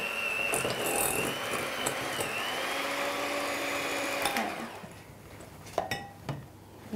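A stand mixer creams butter for a Victoria sponge buttercream, a steady loud whirring motor hum with beater rattle running for about four seconds, then cutting out to quieter clinks and knocks.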